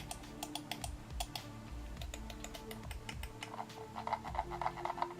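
A SteelSeries Rival 100 gaming mouse clicks quickly and repeatedly, its loud, sharp button taps forming a steady chatter over a low hum that picks up slightly near the end.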